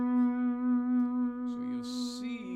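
A single sustained slide guitar note in open D tuning, played with the slide directly over the 5th fret of the G string, rings clearly with steady harmonics, and a brief scrape or handling noise comes near the end.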